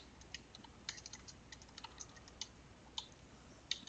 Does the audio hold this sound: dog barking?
no